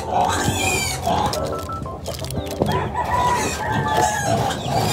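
Three small piglets on a Filipino pig farm squealing and grunting loudly and continuously, close by, with roosters and chickens clucking in the background and a person talking over the noise.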